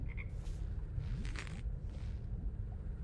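Frogs croak in the video game Her Majesty's Spiffing, a few soft, low croaks and squelchy chirps over a dense, rumbling ambient backdrop, fairly quiet and without speech.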